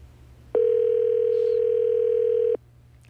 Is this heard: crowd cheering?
no